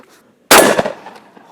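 A single loud, sharp blast from a 12-gauge shotgun fired at a target 10 metres away outdoors, cracking after a brief quiet and fading out in under a second.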